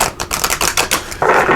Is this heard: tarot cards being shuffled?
yes